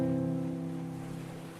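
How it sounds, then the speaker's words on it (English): Procedurally generated ocean waves in the VR game Obolos, played on an Oculus Rift DK1, give a steady low wash of surf with a faint droning hum, fading slightly throughout, no voices. "I like these waves. I assume these are procedurally generated waves."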